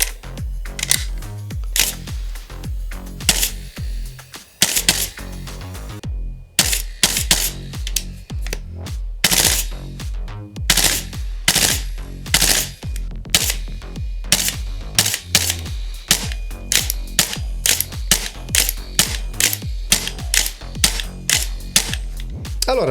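A Noveske N4 T8 gas blowback airsoft rifle cycles with a long run of sharp, loud mechanical clacks, fired singly and in quick bursts, close by with no talking.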